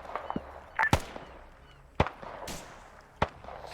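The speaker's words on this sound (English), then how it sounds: "Get this AA gun firing up at him." An anti-aircraft gun in a Vietnam-era war video game fires a few sharp, spaced bangs, a handful of isolated cracks with quieter battlefield noise between them.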